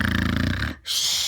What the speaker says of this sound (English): they snuck up to Jack, who was snoring